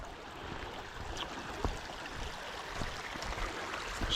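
A brook runs through the woods with a soft, steady, fairly quiet trickle and rush of water, no voices over it.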